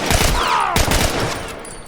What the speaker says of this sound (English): I'm so glad you get an assault rifle.